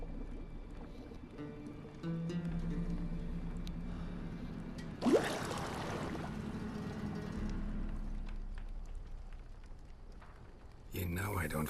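A character wades into water in the video game The Witcher 3, with a steady wash of splashing and sloshing, a sharp splash burst midway, and a louder surge of water near the end.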